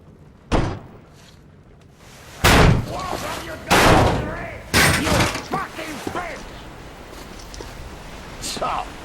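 Heavy door being forced open in Metro Exodus, with several loud, separate thuds and slams spaced a second or two apart, mixed with shattering debris and game noise.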